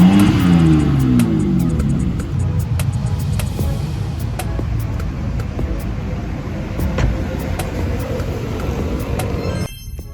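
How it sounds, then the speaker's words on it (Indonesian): A car out on a test drive on a road that is not too busy, with a steady engine rumble and revving that rises early on, then a sharp cutoff near the end. "langsung aja kali ya kita gas tes mobilnya"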